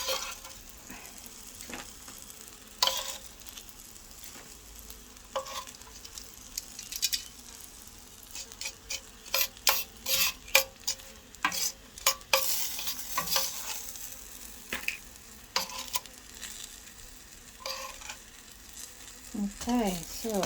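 Dried fish with home-grown vegetables frying in a pan, a steady sizzle broken by repeated stirring scrapes and clatters, close and moderately loud, with occasional brief talk.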